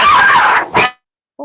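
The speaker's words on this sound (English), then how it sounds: "So sometimes the dogs fight and then they get over it." Dogs bark and snarl in a scuffle, a loud harsh burst followed by one sharp yelp, then a brief silence and a faint start of another noise.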